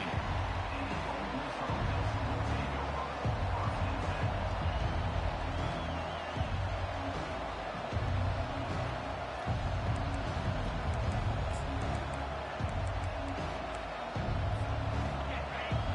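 Continuous roar of a large stadium crowd in a college football video game, a dense steady wash of cheering and murmuring that rises and falls slightly, with no clear voices.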